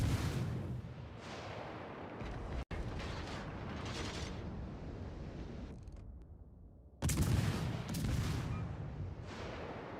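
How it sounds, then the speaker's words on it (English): Ship guns firing in a naval battle video game, heavy booming blasts with rumbling tails that roll on continuously, cutting off sharply once and then surging back loud. "What's the point of playing this game if you're not going to shoot your guns?"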